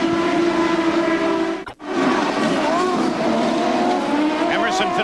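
1993 CART IndyCar race cars scream through the carousel at Road America, loud and close. Engine whine holds steady, briefly drops out and then returns with shifting pitch. A commentator talks over it.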